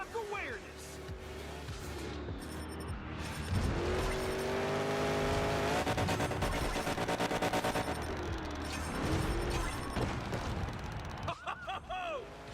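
Monster truck engine roaring and drifting in the Monster Jam Showdown video game, with sustained revving, shifting engine tones and crashes, loud throughout with a commentator talking over it.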